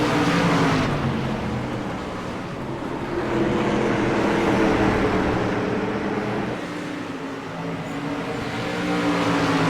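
Street stock race cars roaring around the oval at New Smyrna, a loud, continuous pack of engines holding steady with rising and falling surges as cars pass close by.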